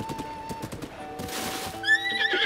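Horse whinnying in the video game The Legend of Zelda: Breath of the Wild near a ranch, a rising whinny over game music with soft hoof clip-clops and steady background ambience.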